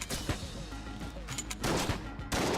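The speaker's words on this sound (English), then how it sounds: "the way they fire out and then all their shots like home toward you and shoot again" Enemy gunfire in the twin-stick shooter Enter the Gungeon, a dense run of sharp shot bursts and impacts layered over busy game noise, with louder volleys toward the end.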